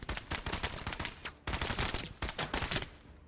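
Rapid bursts of gunfire in MENACE, firing at armored enemy targets, coming in loud clustered volleys with a short gap, close and dominant.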